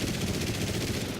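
Rapid machine-gun fire from a lumbering Soviet tactical bomber in War Thunder, a dense continuous rattle of defensive guns filling the whole short burst with no voices.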